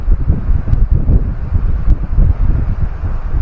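Strong wind gusting over a mountain lake, a steady loud roar buffeting the microphone with low rumbling bursts throughout, no voices.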